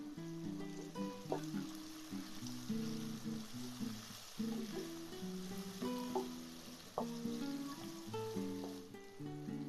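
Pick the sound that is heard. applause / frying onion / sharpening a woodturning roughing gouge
frying onion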